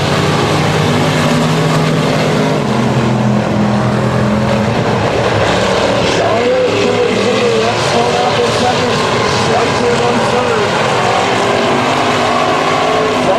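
Race cars circle a short oval at the 250 Speedway, engines roaring steadily throughout with a constant loud drone, and a commentator talks over the racing.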